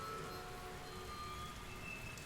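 Steady heavy rain pours down on empty streets, a constant dense hiss without a break and no voices.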